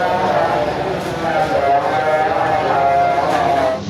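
Goat bleating amid a lively outdoor crowd as a sacrificial animal is brought in for Qurbani, the bleats repeating under continuous loud chatter and talk.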